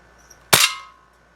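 A single sharp crack from a vintage Crosman 760 air rifle, a sudden close report that rings out and decays quickly in a quiet room.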